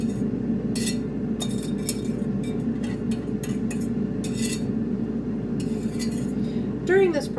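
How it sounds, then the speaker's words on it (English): A thick, firm mixture is scraped and dumped into a glass bowl, giving a run of close, sharp clinks and scrapes of a utensil against glass over a steady low background hum. "I'm going to dump it into a glass bowl"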